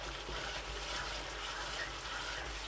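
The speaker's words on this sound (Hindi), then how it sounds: "मेरे पास छोटी प्याली है, मैं वो डाल रहा हूँ पानी की" Water poured from a small cup into a kadahi kabab mixture during cooking, a steady close splashing gush that runs unbroken, with no talking over it.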